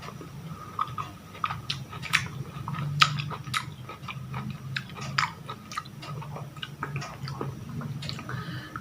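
Someone eats sweet, seedless baby oranges close to the microphone, with wet, squishy chewing and bites that come in irregular bursts over a low hum.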